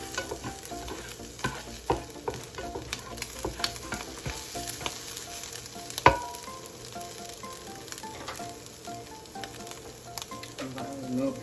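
Corn on the cob sizzles on a hot grill, a steady crackling hiss with scattered pops and occasional scraping clicks throughout, no voices.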